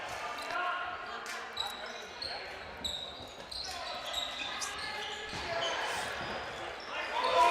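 A dodgeball bounces on the court floor during a British Dodgeball English Super League match, with sharp thuds among echoing hall noise, squeaking shoes and players' shouts.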